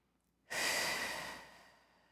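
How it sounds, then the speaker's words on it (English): A single steady exhale through an open mouth during a Pilates session, a soft breathy rush that starts abruptly, holds for about a second and fades, close and alone. "And nice and steady exhales to your open mouth."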